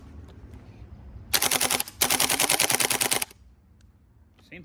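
Gas blowback airsoft FAMAS rifle emptying a full magazine: two rapid bursts of sharp mechanical cracks, the first about half a second, the second over a second long, loud and close against quiet room noise.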